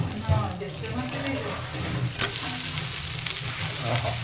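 Dosa frying on a hot pan in a home kitchen, giving a continuous hissing sizzle with faint clinks and some background noise throughout.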